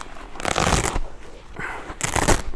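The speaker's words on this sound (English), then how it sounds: "seat cover is held to the foam here by what looks like some kind of Velcro type arrangement that just unpeels" A Velcro-backed seat cover is peeled away from car seat foam in two rough, tearing rips, close and fairly loud, with a brief pause between them.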